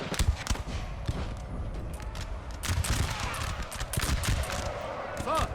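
Battle noise from Napoleon Total War in a poppy field: dense, continuous crackle of massed musket volleys mixed with heavy artillery booms, loud and sustained throughout.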